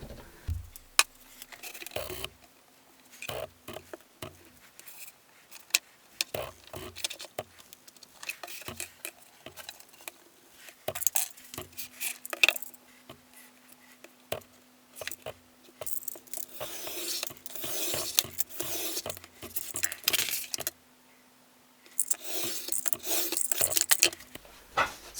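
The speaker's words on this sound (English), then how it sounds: "So let's cut the real mount for the piece." Mount board cut by hand for a picture frame, a long run of scraping, patting strokes and rubbing passes at close range, some sharp and clustered, with a faint steady hum beneath and no talk.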